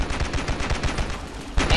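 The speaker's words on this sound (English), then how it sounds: "It makes a mini explosion" A weapon in the Ravenfield shooter game firing rapidly with small explosive impacts, a fast loud run of sharp bursts and thumps, with a heavier blast near the end.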